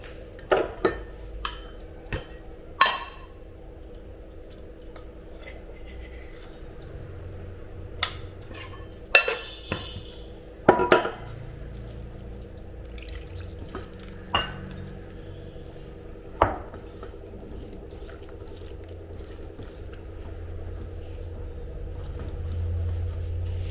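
Brinjal curry masala being mixed with water in a bowl: scattered sharp clinks and scrapes of a utensil against the dish over a low steady background hum, no voices.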